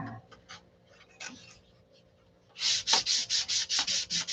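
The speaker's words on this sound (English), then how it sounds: "I just sanded a bunch off of that" 1/8 inch four-pound wood is sanded by hand in a hangar, starting with scattered light scrapes, then a run of about ten rhythmic, close, loud rasping strokes.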